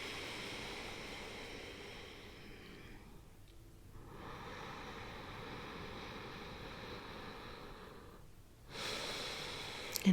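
Slow, meditative breathing close to the microphone: long, airy breaths drawn out over several seconds, broken by two brief quiet pauses, soft and even, with no talking.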